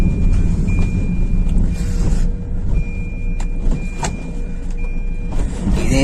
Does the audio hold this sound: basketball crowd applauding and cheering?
no